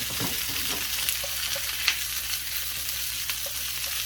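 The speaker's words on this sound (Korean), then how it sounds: "요렇게 한쪽에다가 양파를 좀 볶아줄 겁니다." Onions frying in oil in a small frying pan give a steady, dense sizzle with scattered soft pops and crackles, continuous and close with no voices.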